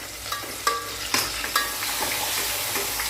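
Hot oil spatters and sizzles in a pan during home frying, a steady broadband hiss broken by several sharp pops and crackles in the first couple of seconds, close and fairly loud.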